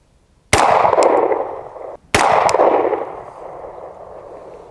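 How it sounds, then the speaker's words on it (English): A PSA Dagger pistol fitted with a Zulisy Owl red dot fires two sharp, loud shots at an outdoor range, about a second and a half apart, each followed by a long ringing decay. "First shots. We're about 12 yards away from the target."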